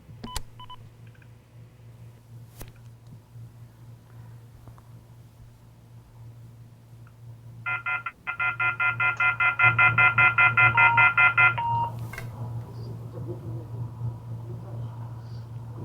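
Telephone touch-tone dialing while a dropped call is reconnected: a rapid run of DTMF beeps sounds over a steady low line hum, followed by a lingering tone, with faint clicks earlier.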